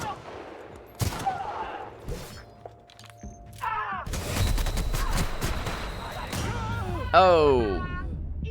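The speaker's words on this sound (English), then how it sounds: "Wow, this light machine gun does not bring the damage." Light machine gun bursts in The Outer Worlds, rapid gunfire mixed with other game effects and loud impacts, under a person talking throughout.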